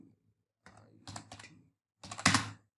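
Keys tapped on a computer keyboard while a title is typed, a quiet burst of clicks followed after a pause by a louder, quicker cluster of keystrokes, close and with no talk.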